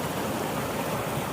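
A creek flows steadily along a long-distance trail, a broadband rushing, splashing water sound that stays even and fairly close throughout, with no voices.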